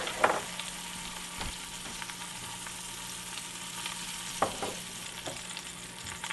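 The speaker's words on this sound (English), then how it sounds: "So you want this to sizzle for about 3 to 5 minutes on each side" Portobello mushrooms sizzle steadily in a hot pan, a continuous broadband crackle with a couple of brief clinks or scrapes along the way, no voices.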